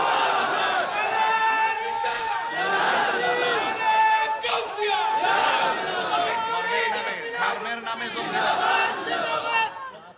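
A large crowd at a Bangla religious sermon gathering chants slogans in loud, rhythmic unison, repeated call after call, with voices overlapping densely throughout.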